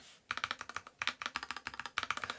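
Fast typing on a NuPhy Halo 65 mechanical keyboard, crisp close-up clacky keystrokes in three quick bursts separated by short pauses.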